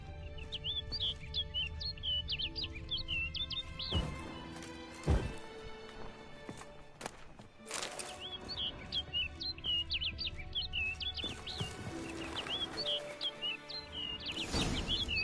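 Birdsong in The Witcher, bright chirps and tweets in short bursts over ambient game sound, with heavy thuds and crashes breaking in, no speech.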